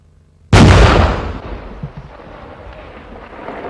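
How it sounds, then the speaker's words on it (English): A 106mm recoilless rifle fires a target practice round at a tank: one sudden, very loud blast that rolls out into a long, fading rumble with faint echoes. "a target practice round was fired at a prior generation tank"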